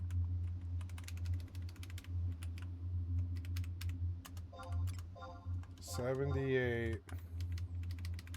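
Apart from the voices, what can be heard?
typing on a Royal Kludge computer keyboard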